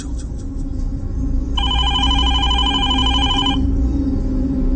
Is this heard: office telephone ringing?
yes